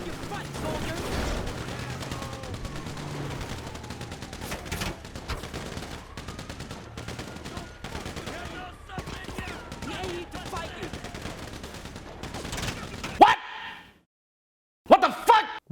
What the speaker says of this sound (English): the character I switch to will sometimes still be firing their gun